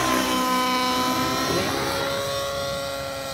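Flybarless radio-controlled 3D helicopter flying loops, its steady high-pitched rotor and motor whine loud and continuous, the pitch swelling and dipping slightly as it turns.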